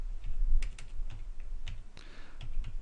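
Keys clatter on a computer keyboard while data is entered into a spreadsheet, a run of close, crisp taps at an irregular rhythm with no talk.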